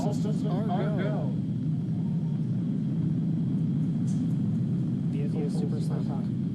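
Falcon 9 rocket engines roar as a steady, dense low rumble throughout its ascent, continuous and loud, with a broadcast voice speaking over the noise at the start and end.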